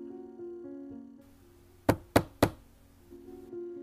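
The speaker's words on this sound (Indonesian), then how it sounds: "Setelah bapak ini tadi mengetuk pintu" Three sharp knocks in quick succession on a wooden plank door, loud and close, set against a low sustained musical drone.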